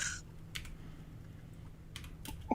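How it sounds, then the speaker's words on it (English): Fast typing on a computer keyboard, a dense run of light clicky keystrokes with a few louder taps, steady and close over a faint low hum, no voices. "Pound that keyboard faster, guys."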